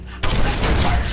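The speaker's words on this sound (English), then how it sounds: "the 28 grenade launching system makes us deadly in close-range engagements" Securitron grenade launching system firing in Fallout: New Vegas: sudden loud burst after a brief quiet moment, then sustained dense blasts and rumble, heavy and close.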